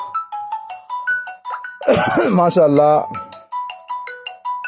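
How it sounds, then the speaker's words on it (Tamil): A phone ringtone for an incoming call chimes in a repeating melodic pattern, loud and close, broken in the middle by a person speaking over it before the tune resumes. "ஃபோன் வருது."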